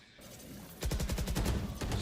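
Rapid gunfire in Valorant during a pro match, quiet at first and then a sudden burst of fast rhythmic shots, fairly faint beneath a game-sound mix.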